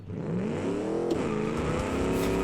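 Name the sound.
V8 car clutch-dumped in second gear spinning tires, BeamNG.drive video game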